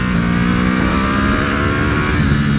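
An Aprilia Tuono 1100 Factory motorcycle engine holds loud, close and steady, with a sustained throaty hum and slight shifts in revs while riding.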